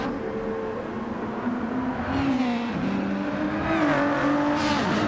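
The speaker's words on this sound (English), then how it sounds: "Let's see how that Ford GT is through the final chicane." Ford GT race car in a racing video game, its engine note rising and falling steadily as it brakes and accelerates through a chicane, with a second roar building near the end.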